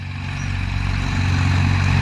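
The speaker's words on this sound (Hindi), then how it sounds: "काफ़ी दूर ट्रैक्टर चल रहा है अब।" A New Holland 3630 tractor working a rotavator runs in the distance, a steady low engine drone with a rhythmic hum that grows slightly louder over the moment, no voices present.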